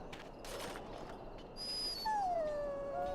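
A dog in the video game Dragon Age Origins whimpers with a thin, rising-then-falling whine near the end, preceded by soft snuffling and low ambient game sound.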